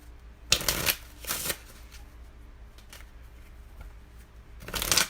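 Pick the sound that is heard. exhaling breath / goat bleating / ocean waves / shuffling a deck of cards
shuffling a deck of cards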